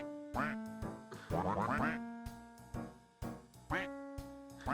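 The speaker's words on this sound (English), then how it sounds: "do you make the duck noises yourself" Duck quacks are layered into background music as a rhythmic series of nasal, tonal quacks, some held and some in quick runs. The sound is fairly close and clear, with no voices.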